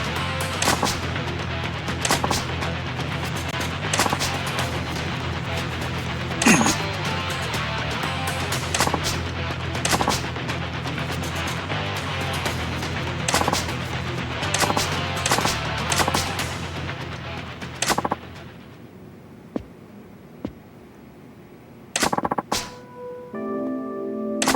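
Gunfire from the Pistol Crew in the video game Yakuza 0: rapid, loud pistol shots and bursts crackle continuously over a busy battle din, then thin out into a few scattered shots near the end.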